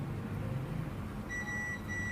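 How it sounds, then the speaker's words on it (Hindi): A multimeter sounds its continuity beep while probing the circuit board of a Samsung A23 (SM-A235F/DS) phone, a steady high tone that starts partway through, pauses briefly, then resumes over a low background hum. "देखिए ये बीप आ रहा है"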